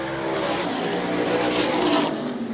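Super modified race cars roaring past together just after a green flag at Airborne speedway, a loud, continuous engine howl with shifting pitch as the pack accelerates.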